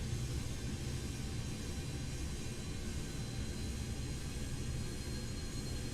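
Antonov An-225 Mriya engines at high idle in Microsoft Flight Simulator 2020, a steady broadband jet roar with an even drone that holds constant throughout, no voices over it.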